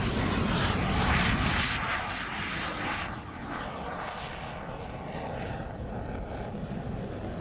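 Naval jet aircraft approaching a carrier for landing, a loud broadband engine roar that is strongest early and then eases to a steady rushing drone, with no voices.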